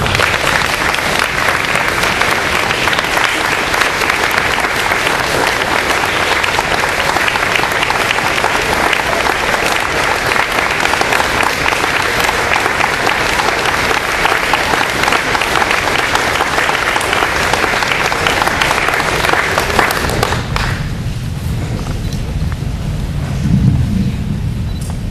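Loud, sustained audience applause fills a hall as a young woman honoree is welcomed onto a Wall of Fame stage, a dense wash of clapping that carries on for about twenty seconds before cutting off abruptly.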